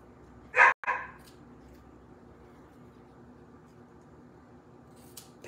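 A dog lets out two sharp, close barks in quick succession near the start, then falls quiet, leaving faint room noise and a small click near the end.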